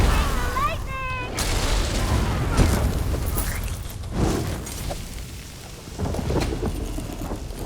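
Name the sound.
lightning spell and thunder in a video game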